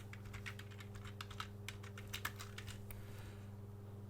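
Rapid keystrokes on a computer keyboard as a project name is typed, a quick uneven run of clicks over a steady electrical hum, then a pause near the end.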